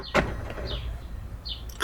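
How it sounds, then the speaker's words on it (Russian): On a BMW X5 E53, the glovebox light connector is unplugged, giving a sharp plastic click, some faint rustling, and then a second click close by. "И снимаем разъем"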